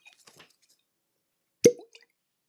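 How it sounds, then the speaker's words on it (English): A cork is pulled from a bottle of Aberlour 16 single malt whisky, giving one sharp, close pop followed by a brief wet squeak, with faint rustling and handling noise before it. "we'll do a cork pop on the Aberlour"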